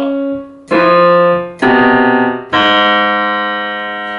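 Single piano-like notes from an ear-training app, three separate tones struck in turn and left to ring, the last sustained and fading; the final note is a G sharp. Clear and close, with no talk.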